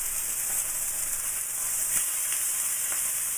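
Salmon fries in a pan with a steady, bright sizzle that stays even and close throughout, with a few faint crackles and no talking.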